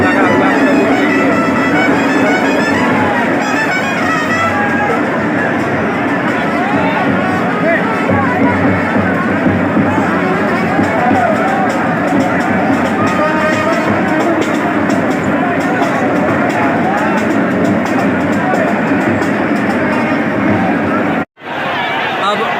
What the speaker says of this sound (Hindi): हर तरफ चरण छूने के लिए प्रसाद लेने के लिए भीड़ लगा हुआ प्रभु के लिए।